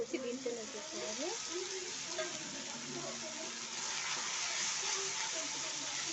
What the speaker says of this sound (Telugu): ఆ పచ్చి వాసన పోయే వరకు కొంచెం ఫ్రై చేసుకోవాలి